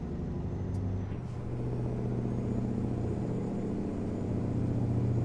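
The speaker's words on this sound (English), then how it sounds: "old Mack winding open nicely into top gear" A Mack truck engine in American Truck Simulator rumbles low and steady while cruising in top gear at 65 mph, a constant droning hum with faint higher tones above it.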